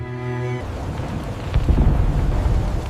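A thunderstorm sound effect follows a brief fading musical tone: rain hisses steadily while a low, heavy rumble of thunder swells midway and rolls on loudly.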